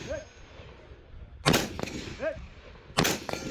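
A rifle firing through a Surefire training suppressor at an outdoor multi-gun match: two sharp, fairly loud muffled cracks spaced about a second and a half apart, with quieter background noise and faint talk between.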